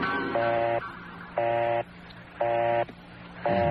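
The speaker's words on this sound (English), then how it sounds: "all I get is a busy signal" Telephone dialing tones give way to a repeating busy signal: four even bursts of buzzing tone with short gaps between them, loud and close, with no voices.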